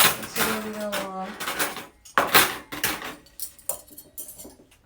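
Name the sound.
knife and fork being wrapped in a peach napkin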